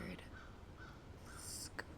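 A crow in a backyard caws a few times in short, harsh bursts at a moderate distance, with quiet background ambience between calls.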